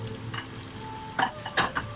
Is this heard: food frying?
yes